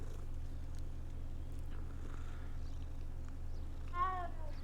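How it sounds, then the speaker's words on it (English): A cat in the Hogwarts Legacy game gives a single short meow as it is petted, heard near the end over a low steady background hum. "Another cat. Let's pet it."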